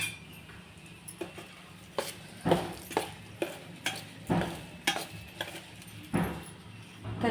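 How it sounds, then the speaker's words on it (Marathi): A spoon stirs a hot mango pickle mixture in a pan just taken off the gas, giving repeated scraping and clinking strokes at an uneven rhythm over a faint background hiss, with no talking. "तर चमच्याच्या सहाय्याने आपण सगळं हलवून घेऊ"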